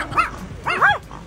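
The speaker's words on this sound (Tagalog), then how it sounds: "naunang tumahol ang asong nasa pulang sasakyan nang makita ang alagang si Kito sa bintana ng kotse" Dogs in cars stuck in traffic bark at each other in a road-rage standoff: a sharp bark, then a louder double bark, close and aggressive, with no talk over it.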